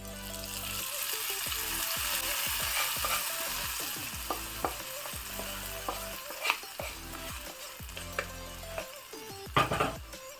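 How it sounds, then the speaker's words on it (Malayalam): Mustard seeds frying and crackling in hot oil with dried red chillies, for a Kerala omakka (papaya) erissery curry, a steady close sizzle with sharp pops and a few louder bursts near the end. "നമുക്ക് കടുക് വറുത്ത് ഇതിനകത്തോട്ടിടാം."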